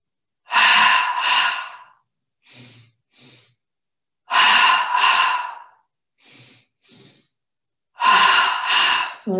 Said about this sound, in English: We're going to take 5 double breaths into the belly, first of all, starting breathing in through the nose twice.